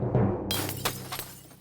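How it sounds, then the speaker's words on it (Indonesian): Window glass smashed with a stone: one sudden bright shatter followed by a few tinkling fragments settling, loud and close against a low background. "Dia mengambil batu dan memecahkan kaca jendela."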